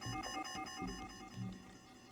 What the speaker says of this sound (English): Let's get as far away from the alarm as possible